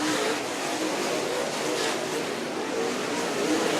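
Late model stock cars race around a speedway in a steady, dense roar of engines, with a commentator talking continuously over the sustained field noise.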